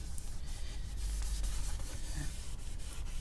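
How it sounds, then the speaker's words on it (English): Steady, soft rubbing hiss of cloth polishing the glossy finish on a handmade guitar body. It runs continuously and quietly at close range with no voice over it. "And all we're doing is rubbing it. Basically, we're polishing it."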